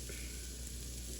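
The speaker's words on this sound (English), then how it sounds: "we're gonna let these vegetables cook down for just a little while" Vegetables for Cajun jambalaya cooking down in a pot, giving a soft, steady sizzle and faint crackle that holds evenly throughout, quiet and close with no voices.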